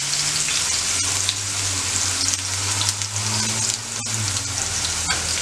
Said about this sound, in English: Let them fry.